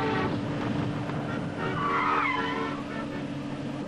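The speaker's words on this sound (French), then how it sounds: "La voiture accélère toujours." Car engine revving hard under steady, loud tire squeal as the vehicle keeps accelerating, with a shrill skid rising near the middle and a continuous roar throughout, close and alone.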